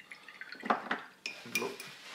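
Water added to paint for mixing while painting a Black Legion Chaos Lord miniature, heard as faint clinks and small drips of a brush against a palette or water pot, close and quiet.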